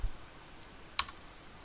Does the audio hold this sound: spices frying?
no